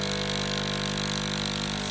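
Vibration pump of a DeLonghi espresso machine running during a repair, a steady, loud droning hum with a constant buzzing tone, close and unbroken for the whole moment.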